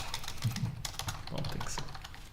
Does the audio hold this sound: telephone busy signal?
no